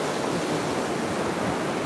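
Waves rolling in on a beach as the tide comes in, a continuous close wash of surf filling the clip, with no voices.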